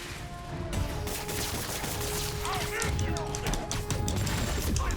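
Rocket explosion and gunfire in the Marvel's Spider-Man Remastered video game: a dense, continuous clatter of shots and crashing impacts at steady loudness, with a voice speaking briefly under it.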